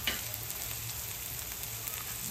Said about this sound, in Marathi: आता चांगले परतून घेऊया